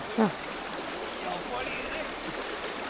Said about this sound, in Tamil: தண்ணியோட சவுண்டே கேட்டுருக்கோம் எவ்வளோ அழகாக இருக்குன்னு